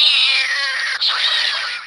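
A single drawn-out cat meow, bright and close, sustained for nearly two seconds with a brief dip midway before trailing off, heard alone.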